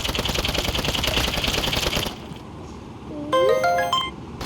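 A phone ringtone sounds in a video game after a dense run of loud rapid clatter: a short rising chirp, then a quick bright electronic trill of tones, moderately loud.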